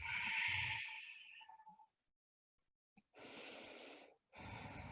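A slow, deep breath out through the nose during a vinyasa yoga flow, a long airy exhale that fades to silence, followed by two more soft, steady breaths, close and quiet.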